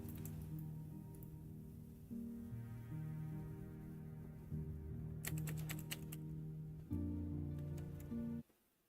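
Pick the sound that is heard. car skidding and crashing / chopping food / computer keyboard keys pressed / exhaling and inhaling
computer keyboard keys pressed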